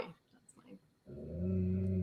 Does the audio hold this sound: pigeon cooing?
no